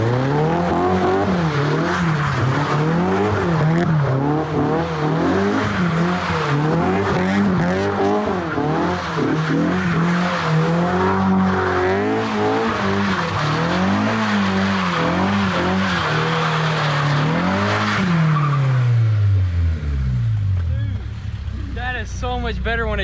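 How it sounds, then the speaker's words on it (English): A Honda S2000 drifts on dry pavement, its engine droning and swooping up and down as tires squeal in long skids, loud and close throughout before the revs drop away near the end; people talk over it. "So much better when it's dry, dude. This, I know, it drifts a lot better."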